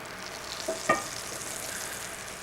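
Butter melting in a warm pan for honey butter toast gives a soft, steady sizzle throughout, broken near the start by a couple of quick clinks.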